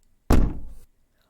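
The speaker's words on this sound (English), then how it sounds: "The giant knocked on the door," A single heavy thunk against a castle door, the deep low-end body of one knock ringing briefly before fading into quiet.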